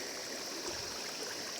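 Water rushing steadily along a shallow stone canal in a mountain village, a constant close hiss and babble with no pauses.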